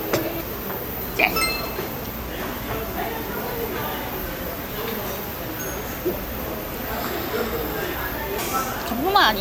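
A few glasses clink together in a soju toast over a meal of fish roe stew, with sharp brief chinks near the start and end above a steady murmur of background chatter.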